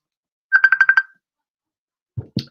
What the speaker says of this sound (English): Why people want to phone me when I'm doing a live, I have no idea.